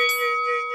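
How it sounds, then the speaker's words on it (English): A single bright electronic notification bell chime, sustained and ringing for under a second, clear and alone. "hit that notification bell"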